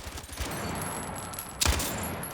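A belt-fed light machine gun with a 100-round belt fires in Battlefield 6, a continuous rapid rattle of shots that rolls on steadily, with a heavier burst or impact near the end and no talking.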